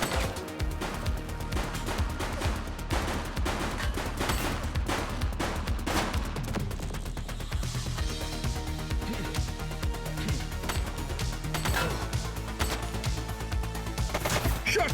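Gunfire in The Precinct police game, dense rapid bursts of shots cracking continuously for the whole stretch, loud and close with no pauses.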